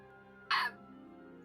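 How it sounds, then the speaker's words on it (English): A single short hiccup-like burst stands out sharply over a quiet steady hum, followed by a brief faint catch near the end; no talking. "Hiccup."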